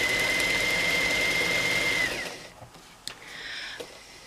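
A sewing machine chain-piecing quilt triangles whirs steadily and loudly for about two seconds, then stops, leaving a few faint clicks and light handling sounds.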